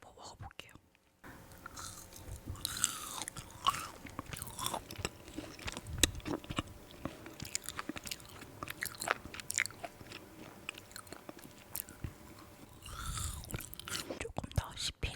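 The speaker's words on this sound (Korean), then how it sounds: "하리보 먹어볼게요." Haribo gummy candy being bitten and chewed close to the mic, a steady run of soft wet mastication clicks and squishes with brief crunchy snaps and faint breathy whispers.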